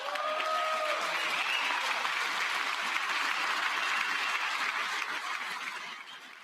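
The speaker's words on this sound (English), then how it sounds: "I wasn't sure if anybody even on this side was going to applaud for that" Sustained applause fills a congressional chamber during a State of the Union address, a dense continuous clapping from a large crowd that holds evenly before tapering at the end.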